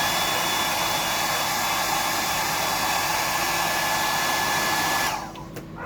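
A hair dryer blows steadily on a wet fishing lure blank, a loud continuous whooshing hum that runs evenly for several seconds before cutting off abruptly near the end.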